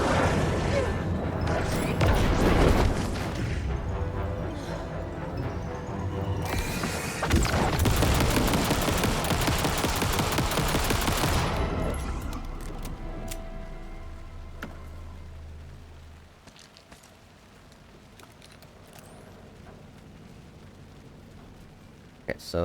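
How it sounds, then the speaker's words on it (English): Rapid gunfire from Jesse in Alan Wake 2, loud bursts in two stretches early on, then dying away to quieter ambience with occasional faint ticks. "Jesse can fire a gun way faster than Saga can"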